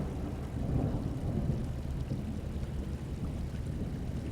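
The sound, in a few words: storm weather at sea in ship simulator video game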